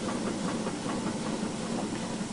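Steam locomotive blowers opened wide in a train driving game, a loud, steady broadband hiss with a faint pulsing engine texture beneath, continuous and close.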